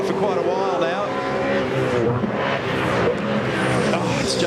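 V8 touring cars racing at the Adelaide 500 street circuit in the 2001 Shell Championship Series, with an FTR Ford Falcon in the pack. Engines roar loudly and steadily, snarling through gear changes, as commentary runs over the top.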